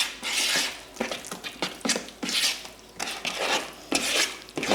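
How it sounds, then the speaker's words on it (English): A spoon stirs egg into a thick ricotta-style cheese manicotti filling in a bowl, giving repeated scraping, clacking strokes in an uneven rhythm, close and fairly loud, with no talking. "You want to make sure you mix the egg in nice and thoroughly."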